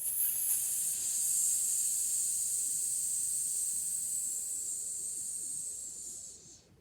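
Preschool children imitating a snake's hiss in unison, a long, steady, breathy hiss held for several seconds before fading out, fairly soft and without words.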